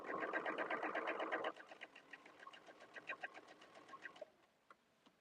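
A sewing machine stitching rapidly during free motion quilting, steady and fairly close for the first moment, then slowing into spaced, irregular bursts of stitches before stopping near the end.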